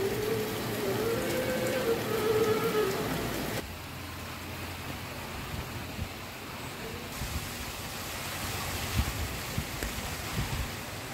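Steady rain falls during a cyclone, a dense, even hiss of drops on surfaces that continues through, with a brief tonal sound at the start.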